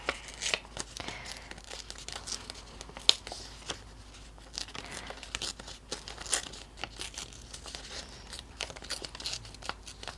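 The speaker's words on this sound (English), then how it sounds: "I might just tear them out." Paper prompts torn out by hand in a collage project, a series of quick close rips and crinkles with short pauses between them and a sharp tear near the start.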